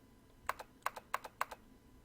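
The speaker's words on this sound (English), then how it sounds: "See? The keyboard." Computer keyboard typing in Zero Escape: 999, four quick double-tap bursts of key clicks in an even rhythm, close and crisp over a quiet background hum, with no talking.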